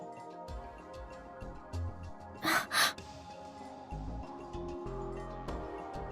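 Kazuki, a character from the visual novel Chaos;Child, gives two quick, sharp gasps of surprise in close succession over quiet game background music.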